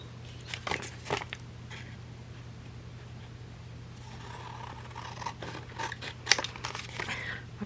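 Scissors cut paper for a mark-making art project, with a few crisp snips early on, a quiet stretch, then more scattered snipping and faint paper rustle, close up with no talking.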